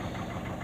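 A Peugeot 206 HDi diesel engine with a particulate filter idles while warming up, giving a steady, close, low mechanical rumble with no talk.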